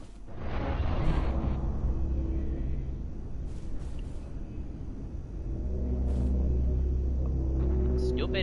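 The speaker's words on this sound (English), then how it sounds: "Stupid freaking portal storm." A portal storm rumbles through Abiotic Factor gameplay as a deep, heavy roar that swells, eases off and builds again over several seconds, with sharp crackling zaps scattered across it and a voice talking over it.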